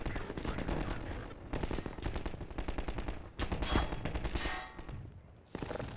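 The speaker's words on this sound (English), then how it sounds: "What do you have, an assault rifle?" Assault rifle fire in the video game Half-Life 2 comes in loud, rapid bursts of shots, broken by short pauses and echoing tails.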